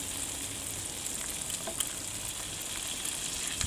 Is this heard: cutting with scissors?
no